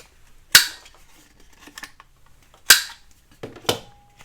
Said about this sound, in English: Going to go ahead and round these corners.